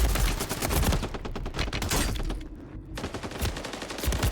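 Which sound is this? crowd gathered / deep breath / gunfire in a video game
gunfire in a video game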